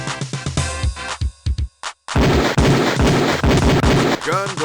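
Gunfire at a police shooting range in the Police Quest: Open Season video game, a rapid string of sharp shots in quick bursts after a short pause, loud and close, with a range officer's voice calling commands at the start.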